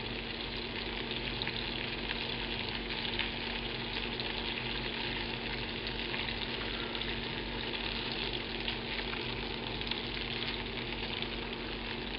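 A banana fritter sizzles and fries in a pan on low heat, making a steady, close crackle throughout with no voices.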